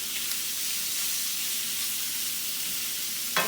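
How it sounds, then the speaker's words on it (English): Beef sausage browning in a pan for jambalaya, giving a steady, even sizzle that holds close and constant throughout, with a faint clink near the end. "I'm using beef sausage. So I'm just going to let it just brown a little bit"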